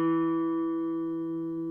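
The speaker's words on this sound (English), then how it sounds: "place it on the 2nd fret of the 4th string" A single guitar note sounds from the 2nd fret of the D string on a guitar, picked once near the microphone and left ringing steadily, slowly fading over nearly two seconds with no talk.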